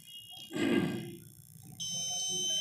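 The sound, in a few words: gas leak detector buzzer sounding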